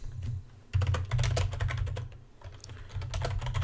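Fast, steady typing clatters on a computer keyboard up close, the keys rattling in dense bursts over a low background hum with no talk.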